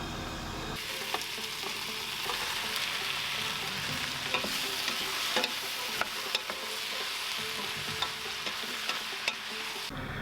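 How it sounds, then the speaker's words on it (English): Diced lamb and potatoes fry in a pot with a steady, dense sizzle, broken by scattered clinks and scraping stirs. No one speaks. "It's time to add my diced lamb back into the pot with some of my potatoes"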